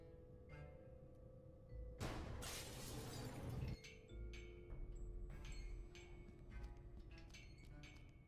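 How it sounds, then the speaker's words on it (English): Glass pane above a laboratory door shattering in the adventure game Gibbous: one loud, bright crash of breaking glass lasting under two seconds, then scattered tinkling shards falling, with a steady low game background hum throughout and no talk. "I got rid of the glass above the door to the lab"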